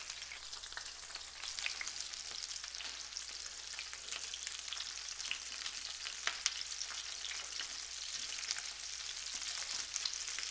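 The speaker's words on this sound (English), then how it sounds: "Look at all that fat that's rendering." KuneKune pork chops fry in an overloaded pan with a dense, continuous sizzle and crackle of rendering fat, steady and fairly loud, with no voices.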